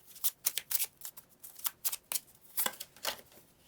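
Tarot cards shuffled by hand, a quick run of crisp papery riffles and slaps in uneven bursts, close and fairly quiet, with no talking.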